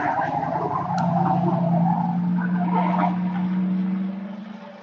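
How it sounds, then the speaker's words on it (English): A car driving past on a road outdoors at sunrise, a loud steady engine and tyre roar close by that holds and then fades away at the end. "Waiting for this car to pass."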